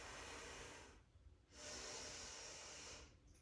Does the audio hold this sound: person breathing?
yes